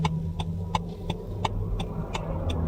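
Road traffic noise by a street where roadwork is underway, a steady low engine rumble of passing and idling cars with a faint regular ticking, like a turn signal, repeating through it.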